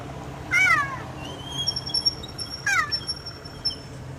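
Two distinct cat meows with rising, wavering pitch a couple of seconds apart, from cats painted in cheetah colours, close and clear over faint background hum with a few high tonal whistles.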